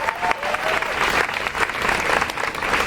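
Crowd at an outdoor rally in Brixton applauding and cheering steadily, dense sustained clapping with scattered whoops filling the whole stretch at close range.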